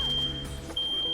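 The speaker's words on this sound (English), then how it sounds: "my apartment complex was testing fire alarms" Apartment complex fire alarm under test, a steady high-pitched electronic tone that holds through most of the moment, briefly dropping out midway, over low background game noise.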